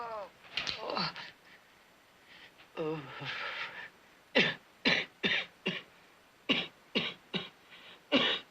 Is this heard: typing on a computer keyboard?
no